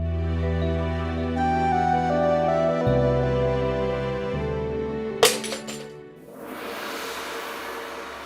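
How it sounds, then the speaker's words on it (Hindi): Glass is deliberately smashed in a sharp, bright shatter with tinkling fragments, cutting across sustained dramatic music that then fades into hiss. "वो कांच का टूटना शुभ होता है ना, इसलिए तोड़ दिया"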